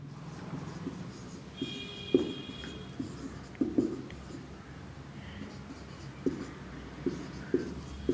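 A pen scratches notes onto paper during a Hindi biology lesson, with short, irregular writing strokes and taps scattered over a quiet room hum, faint talk in the background.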